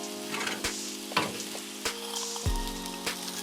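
Philly cheese steak filling sizzles steadily on a Blackstone griddle, a close, even hiss broken by a few sharp scrapes and taps of a spatula.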